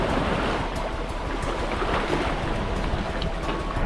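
Ocean surf off a remote stretch of the Great Barrier Reef, with waves washing close and loud in a steady, unbroken roar and no talk over it.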